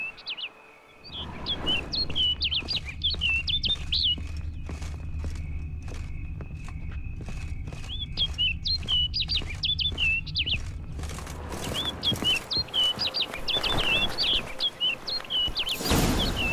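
Repeated high chirping bird calls in The Witcher 3: Wild Hunt (Blood and Wine), trilling in bursts at the start and again near the end over a steady low ambient drone with faint footsteps.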